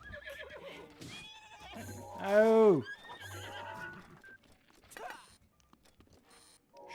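Epona, a horse in a Zelda video game, lets out one loud rising-and-falling whinny amid game sounds and hoofbeats, and a person exclaims briefly.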